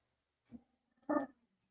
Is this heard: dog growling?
yes